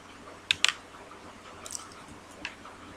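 Computer mouse clicks and light key taps while working in NX CAD software, a few quick close clicks clustered early, then sparse faint taps, over a quiet room hum with no talking.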